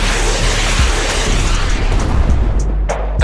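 Loud sustained boom of a missile firing and exploding in a space combat setting, a dense rumbling roar that fills the whole clip, with no talking.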